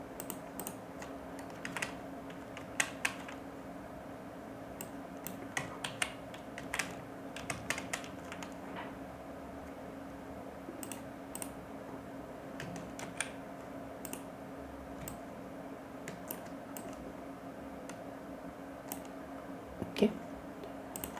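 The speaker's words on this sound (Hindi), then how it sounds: "आप कीबोर्ड से भी टाइप कर सकते हैं।" Someone types on a computer keyboard while designing a newspaper advertisement, with soft, scattered key clicks in irregular bursts, faint and close over a quiet background hum.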